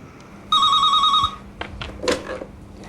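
A telephone rings at a council housing transfer helpline, one loud electronic trill lasting under a second, followed by a soft clunk and faint handling sounds as the receiver is picked up.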